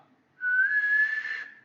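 A single loud, shrill human whistle rises slightly in pitch, then holds strong and steady for over a second before tapering off.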